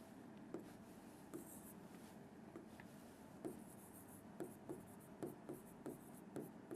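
A pen or chalk writes the coulomb symbol and name on paper or a board, giving faint scratchy strokes with regular sharp taps as each letter is marked, quiet and close.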